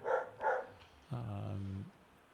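Shannon's dogs let out two quick barks close by, then a sustained whining howl follows after a short pause.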